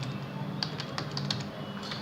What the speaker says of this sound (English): I can type a message.